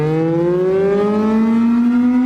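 A loud civil-defense siren wails during a nuclear attack warning, its steady tone slowly rising in pitch, sustained and close with no voices.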